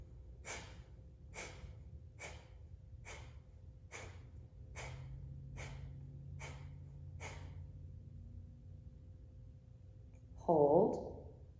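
Kapalabhati breathing, a series of about ten sharp, evenly spaced forceful exhales through the nose, then a pause and one longer breath sound near the end, close and clear.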